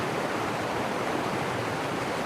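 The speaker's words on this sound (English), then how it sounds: "I like these small streams." A small woodland stream flowing, a steady close wash of rushing water with an even hiss and no breaks, heard on its own without any voices.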